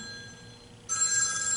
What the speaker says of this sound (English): Get the phone.